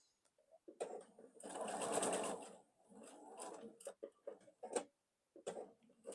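Sewing machine stitching quilt block triangles in short bursts, a close rapid mechanical chatter that starts and stops with quieter gaps and a few clicks between runs.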